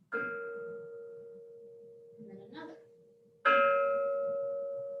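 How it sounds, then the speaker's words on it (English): An ancient Chinese bell that sounds two notes a third apart is struck twice, each strike ringing out and slowly fading, with a brief spoken phrase between the strikes. "each bell actually plays 2 notes, a third apart."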